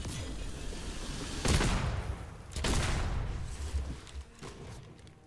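Gunshots ring out in the video game Witchfire, three heavy blasts spaced about a second apart, each trailing into a booming reverberant tail, followed by fainter shots.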